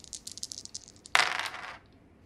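Three dice rolled during a tabletop wargame, a quick rattle of small clicks followed by a louder clattering burst as they tumble onto the table and settle, close and alone.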